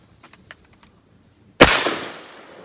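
A single loud, close shotgun blast from an old Stevens Riverside shotgun while shooting clays outdoors, a sharp crack followed by a long, decaying rumble, preceded by a few faint clicks and rustles.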